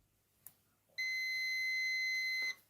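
A digital multimeter in diode/continuity buzzer mode gives one steady high-pitched beep lasting about a second and a half while checking a Haier DC inverter air conditioner, preceded by a faint click.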